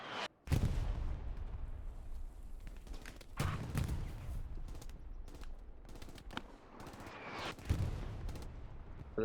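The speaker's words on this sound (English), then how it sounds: "Artillery is unfortunately hitting right where the garrison is." Heavy artillery and gunfire in the World War II shooter Hell Let Loose, repeated loud booming impacts and crackling bursts rolling one after another, with rattling small-arms fire between the blasts.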